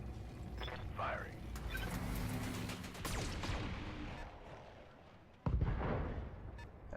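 Weapons fire from mechs in the BattleTech video game: a rumbling mechanical clatter with muffled booms, then a sharp loud impact blast near the end, heard close and without talk.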